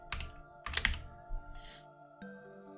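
Close keystrokes on a computer keyboard while coding, a few quick clustered clicks followed by single taps, with faint tonal background hum.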